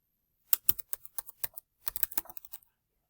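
Keys clatter in an uneven run on a computer keyboard as a command is typed into a Cisco router configuration in Packet Tracer, with two bursts of close, crisp keystrokes separated by a short pause.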